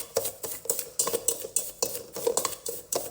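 A utensil scrapes and knocks against a bowl while brookie dough is mixed, in quick rhythmic strokes of about three per second, close and clear with no talking.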